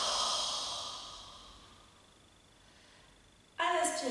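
A long, steady exhale pushed through a slightly constricted throat during a Pilates warm-up, breathy and hissing, fading gradually over about three seconds before a new sound starts abruptly.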